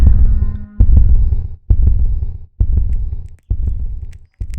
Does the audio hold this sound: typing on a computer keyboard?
no